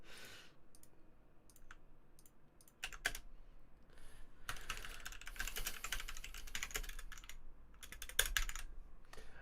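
Fingers typing on a silent computer keyboard, soft rapid key clicks in irregular bursts, sparse at first and then denser and busier, close and fairly quiet.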